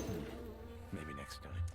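A wasp buzzes in the video game Two Worlds II with a droning, wavering hum that rises and falls over under two seconds, mixed with game sounds.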